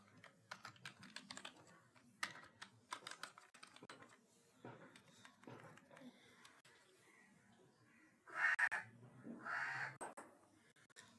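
Quiet clicks of a computer keyboard come in quick uneven bursts as a word is typed, with a short spoken phrase partway through.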